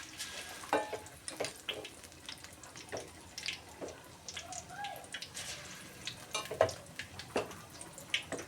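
Mirchi bajji chili fritters frying in hot oil, a steady crackling sizzle with scattered pops and faint clinks, close and moderately quiet throughout.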